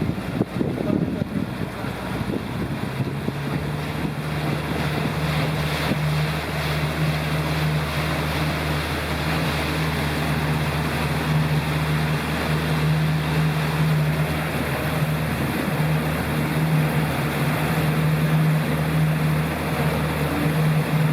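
Boat motor droning steadily as the vessel sets off on the Chobe River in Botswana, a constant low hum with wind buffeting the microphone and rushing water, with a brief burst of louder noise at the start.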